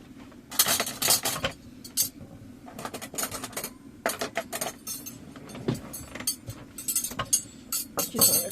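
Spoons and forks clatter and clink as they are handled, a run of bright metallic chinks in irregular bursts, close and fairly loud, with no talk over them.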